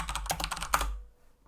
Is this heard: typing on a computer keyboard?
yes